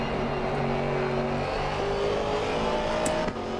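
A GT4 race car engine drones in a racing video game at Suzuka, loud and continuous, with pitch shifting gradually as the car is driven through the lap.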